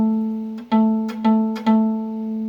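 A guitar string is plucked with the finger pressed right on top of the fret, giving a dull, muted note repeated about four times in a steady rhythm, close and with no talk.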